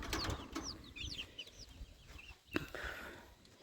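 Backyard chickens clucking and chirping, with a young chick out on a walk: a run of quick, bright peeping calls over soft ground noise, a thump partway through, and quiet clucks continuing close by.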